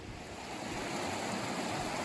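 Steady rushing water from a mountain creek in the John Muir Wilderness: a broad, continuous hiss and roar with no breaks, close and fairly loud.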